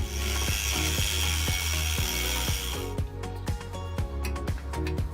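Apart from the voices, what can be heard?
cutting a copper cooling block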